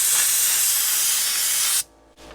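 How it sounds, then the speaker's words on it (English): Air and dirt blow from the exhaust of a 60-year-old dump truck left sitting for years, a loud, rough rushing hiss close by that cuts off abruptly near the end. "you can hear the dirt crackling out the end of it."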